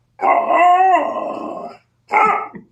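A dog lets out a long, drawn-out, howling bark-growl, then after a short gap gives one more gruff bark. Both are loud and close, with no talking.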